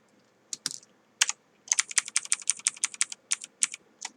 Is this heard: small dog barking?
no